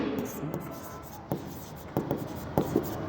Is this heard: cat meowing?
no